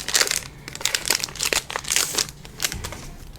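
Crinkly plastic wrapper of a Pokémon card booster pack from a Zénith Suprême elite trainer box being torn open, loud and close in irregular crumpling bursts.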